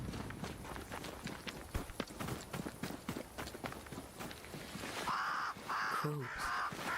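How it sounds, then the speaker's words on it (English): Crows caw in a harsh, repeated burst near the end inside the video game Banishers: Ghosts of New Eden, following a stretch of quick footsteps or running, with game ambience underneath. "Crows. They flock to that great tree up there."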